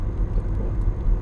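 A Jaguar XF cruises along at a steady pace, its low engine rumble and road hum continuous and fairly loud inside the cabin, with no talking.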